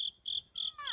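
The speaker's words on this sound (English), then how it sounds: "Someone shoot that cricket." A cricket in a video game chirps in three or four crisp, evenly spaced high-pitched trills, close and clear with no other sound behind it.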